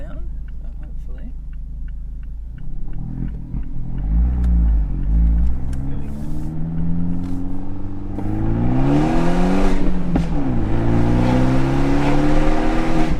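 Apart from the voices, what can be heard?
car engine revving, trying to make popping sound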